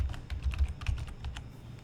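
Rapid keystrokes on a computer keyboard clatter in a steady, uneven patter, close and moderately loud, with no talking.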